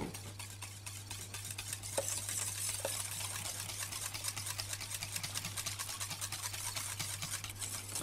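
A cake mixture stirred steadily in a bowl, a continuous close wet scraping and swishing at an even rhythm with a couple of faint clinks, no talking.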